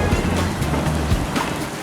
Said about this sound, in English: It's raining